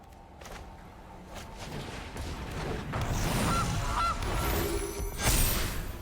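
Cartoonish goose honk effect from the Magic: The Gathering Arena video game, a couple of short nasal honks amid busy game sound effects and a whooshing swell.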